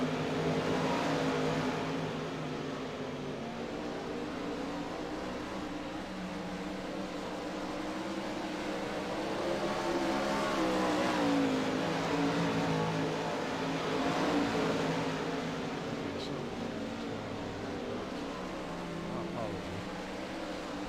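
Race cars roar through the final laps of a heat race on the big Charlotte track, a dense continuous engine drone swelling and fading as the field passes, with crowd and announcer murmur beneath.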